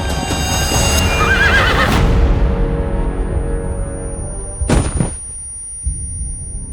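Wild horse whinnying loudly up close in a Chinese costume-drama setting, followed by a short burst of hoofbeats and thumps, with no talk.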